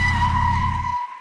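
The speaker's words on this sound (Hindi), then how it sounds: "गाड़ी के ब्रेक लगने की जोरदार आवाज से सबका ध्यान उस तरफ चला गया" A car skids to a hard stop on an unpaved village road outside a panchayat gathering, with a loud tire squeal and a low engine rumble that cuts off abruptly near the end, leaving a fading whine.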